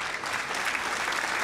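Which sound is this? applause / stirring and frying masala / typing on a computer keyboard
applause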